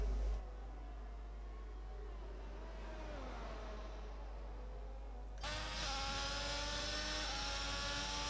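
A race car engine in a racing video game revs and whines through a qualifying lap, with rising and falling pitch sweeps and gear changes. The engine note grows louder and brighter near the end, with no talking.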